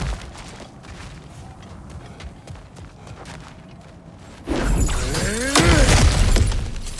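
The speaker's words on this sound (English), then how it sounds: "Ah, back to smashing through things for fun and profit." In God of War Ragnarok, cracked ground is smashed through. Light scuffs and clicks lead into a sudden loud crash of breaking, shattering debris, followed by heavy rumbling and scattered crunches.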